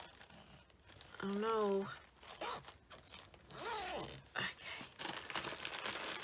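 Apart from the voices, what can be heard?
zippers on project storage bags being opened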